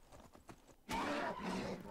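A horse in the video game Skyrim lets out a sudden loud whinny, following some faint soft thuds, and the neigh then trails off in a rough, fluttering fade.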